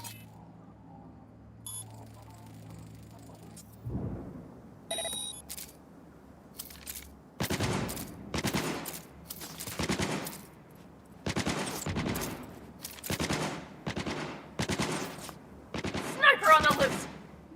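Turret gunfire in Cyberpunk 2077 rattles out in repeated loud bursts of rapid shots separated by short pauses, following a quieter stretch with a low hum and a few brief clicks.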